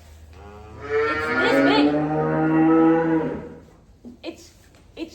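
A big suckler cow gives one long, loud, drawn-out moo close by, followed by a few soft thumps and a brief spoken word.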